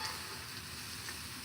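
Shrimp frying on a Blackstone griddle, a faint, even sizzle close by, with no voices and no clear tossing strokes.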